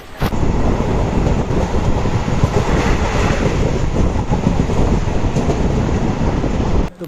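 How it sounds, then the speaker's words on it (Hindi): Gomtinagar Express passenger train running steadily, heard from inside a carriage: a continuous loud rumble with dense rail clatter throughout, no voices. "तो गुरु फाइनली अभी हम लोग ट्रेन में बैठ चुके हैं"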